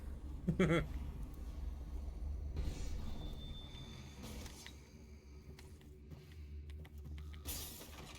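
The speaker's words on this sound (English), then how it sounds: "I don't know why that glass broke for seemingly no reason." Glass shatters in the game Dishonored with a sharp, bright crash and scattered tinkling. Low rumbling game ambience and further clattering follow, with a few other brief crashes later in the clip.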